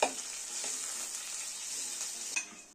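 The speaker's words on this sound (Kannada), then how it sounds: "ಈರುಳ್ಳಿ ಸ್ವಲ್ಪ ಕಂದು ಬಣ್ಣ ಬರೋ ತನಕ ಫ್ರೈ ಮಾಡಬೇಕು." A small onion fries in hot oil in a pan until browning, for a boti gravy, giving a steady close sizzle with occasional stirring scrapes.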